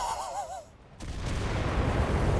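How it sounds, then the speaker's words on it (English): Bomb explosion in the World War II shooter Enlisted, a falling whistle that cuts into a sudden loud blast followed by a heavy, sustained rumbling roar. "Oh, that's a bomb."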